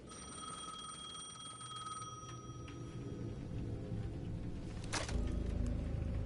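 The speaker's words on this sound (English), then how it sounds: "The payphone at the edge of the plaza was ringing again." A payphone at the edge of a plaza in the game Alan Wake 2 rings in a thin, steady tone that fades, followed by a low rumble and a sharp clunk near the end.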